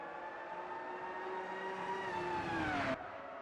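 Formula One race cars in a racing video game: a sustained engine whine rising in pitch as it passes close, then cutting off abruptly near the end, with no talk over it.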